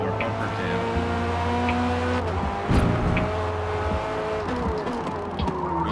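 A race car in the Forza Motorsport video game roars through a lap, its engine droning loud and steady with rising and falling gear pitches, a brief tire scrub midway, and no talk.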